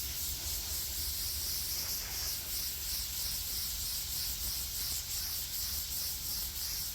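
A steady, airy hiss of blown air clears leftover sand dust from a freshly engraved stone headstone. The sound is continuous and fairly close and holds at an even level for the whole stretch, with no talking.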